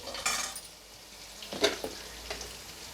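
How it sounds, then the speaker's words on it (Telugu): Spices with a spoonful of coriander powder frying in a pan for a Nellore fish curry, giving soft sizzling under a few clinks and scrapes of a spoon against the pan, close and fairly quiet. "ఇవి వేగేటప్పుడే 1 స్పూను ధనియాల పొడి వేసానండి."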